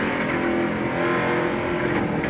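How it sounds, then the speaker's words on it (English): NASCAR Busch Series race car engines at a 2001 race, loud and steady, with throttle feathered and then stamped open, a continuous roar of several cars close by. "You can hear him feather the throttle because he couldn't go nowhere, and Steve Park jumps on the throttle"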